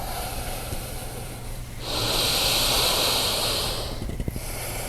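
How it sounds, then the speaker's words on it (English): A deep breath drawn during a yoga session, one long, breathy hiss rising after a quiet stretch, holding for about two seconds and then fading, close and alone. "Take 2 more complete breaths"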